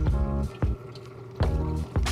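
Gosling's Black Seal and Gold Seal rums poured for a swizzle cocktail, giving a few brief wet splashes and drips over a steady low background hum, with no talk.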